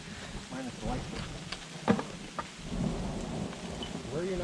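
Thunder rumbles during a lightning storm with steady rain falling around a dry spot at Lynx Creek, Arizona, low and diffuse under the hiss of rain, with a sharper crack midway.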